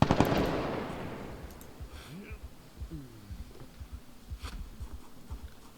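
Gunfire in a video game: a loud burst at the start fades out, then lighter scattered shots and impacts follow at a moderate level, with no one talking.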